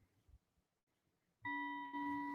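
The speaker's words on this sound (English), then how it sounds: "The chime is quiet." A doorbell-like chime rings out clearly as two sustained tones, the second overlapping the first. The chime is loud and close against a very quiet background, with no talking.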